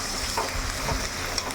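Onion paste sizzles steadily in a hot pan, with a continuous close frying hiss and a few soft stirring scrapes, and nobody talking.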